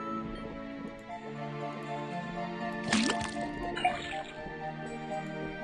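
Water drips and splashes from a faucet in the video game Detective Grimoire, a few wet plinks and a sharper squishy drop over a low musical background.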